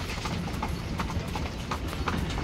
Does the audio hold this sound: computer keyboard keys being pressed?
no